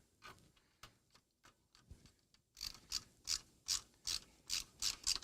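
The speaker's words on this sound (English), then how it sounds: "Put some screws in." A screwdriver driving screws into a CRT monitor project, a series of quiet ratcheting clicks giving way to a steady run of louder, evenly spaced ticking turns, close up with no talk.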